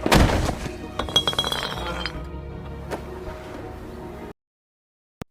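A glass bottle smashes in a fight scene, a loud burst of shattering followed by a spray of tinkling shards over about four seconds, then sudden silence and one last faint clink.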